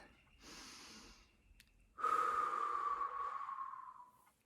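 One slow deep breath, a soft inhale followed by a long, fading, audible exhale, close and quiet, with no speech.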